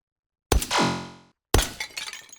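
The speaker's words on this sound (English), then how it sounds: "there's that glass breaking" Glass targets shattering in the VR shooting game H3VR, two loud close breaks about a second apart, the first ringing out with tinkling shards, the second scattering into a clatter of fragments.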